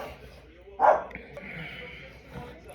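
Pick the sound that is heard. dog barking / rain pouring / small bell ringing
dog barking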